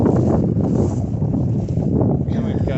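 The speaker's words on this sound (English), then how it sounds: "You might have to talk loud because of the wind" Strong wind blowing across an open farm field in late May, a loud buffeting rush battering the microphone with steady gusts, a voice speaking faintly underneath.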